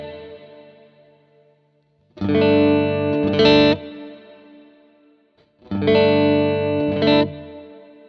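Electric guitar played through a Quad Cortex amp model with cab B, two loud distorted strummed chords a few seconds apart, each ringing out briefly before being choked, with a faint decaying tail between them.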